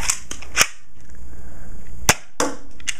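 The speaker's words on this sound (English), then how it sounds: "I'm going to be firing off 5 shots aimed right at that" BOOMco Farshot toy blaster firing, several sharp loud snapping shots spaced unevenly across a few seconds, close and dry, with a quiet hum between them.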